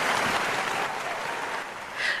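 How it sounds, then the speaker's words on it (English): Audience breaks into applause, a continuous spread of clapping that is strongest at the start, eases slightly midway and lifts again at the end, with no talk on top. "Round of applause for wine."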